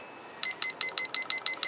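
A kitchen-style timer gives eight short, evenly spaced electronic beeps as it is set, close and clear against a quiet room.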